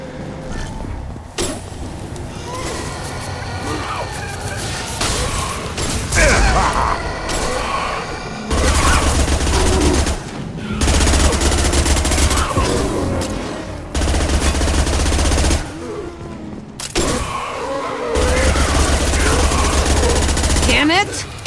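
Sustained firefight in Mass Effect 2, with dense automatic gunfire, bursts and booms running almost without pause under shouted combat voices, loud and close throughout.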